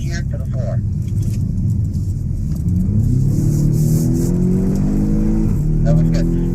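A four-wheel drive race car accelerates hard around Circuit of The Americas, its engine note climbing in pitch as it pulls through the gears, loud and close, with wind noise and a few brief bursts of talk over it.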